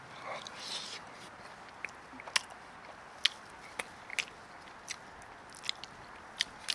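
Biting and chewing a samosa topped with chickpeas, quiet close-up crunches and soft chewing clicks scattered at irregular intervals over low room noise.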